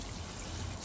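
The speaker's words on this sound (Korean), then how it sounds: "우리가 샤워하듯이 사람이 샤워하는 것보다 더 샤워를 시킵니다" Water from a shower head spraying over potted succulents during a summer heatwave, a steady close rushing hiss with no voices.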